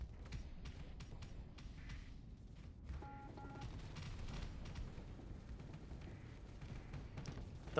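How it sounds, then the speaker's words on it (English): Onager missiles fire in rapid volleys during a Starsector space battle, a dense crackling fusillade of launches and distant booms rolling continuously at a fairly low level, with no talking. "Those Onager missiles are nice."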